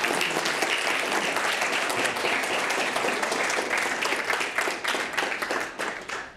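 A large audience at an evening talk on sanitation in developing countries applauds, with dense, sustained clapping that stays loud and continuous before thinning slightly toward the end.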